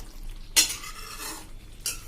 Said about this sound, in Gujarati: હવે આને આપણે હલાવી લેશું.